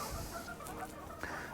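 Silkie chickens in a small chicken barn give a few soft clucks and murmurs, close by and fairly quiet over a low background hum.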